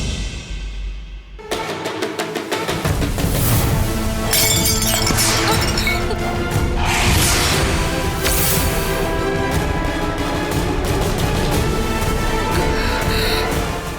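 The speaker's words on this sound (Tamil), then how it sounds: "இப்பதான் அந்த பாட்டில் உடைஞ்சிருக்கு" A perfume bottle breaking: a sudden, loud glass shatter, followed by sustained bright crashing and tinkling that fills the rest of the moment.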